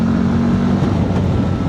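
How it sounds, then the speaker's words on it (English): Mobidelli T1002VX adventure motorcycle engine droning steadily while riding on open roads, a loud, constant low growl with a dull buzz and wind, and no voices. "you hear that beautiful engine note as I'm enjoying these beautiful roads"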